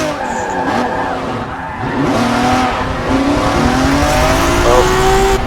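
A drift car in a Formula Drift round slides around a corner by a tire barrier, tires squealing in long wavering screeches over a loud, steady engine roar.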